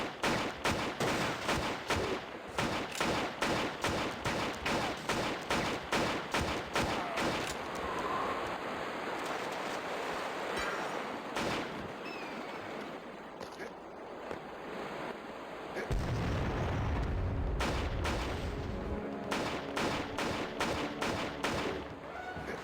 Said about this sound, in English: What is shooting at me?